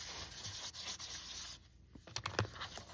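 Fingers rubbing glue onto paper pieces inside a handmade card, a soft close dry rubbing and scuffing that runs steadily, then breaks into a few short strokes.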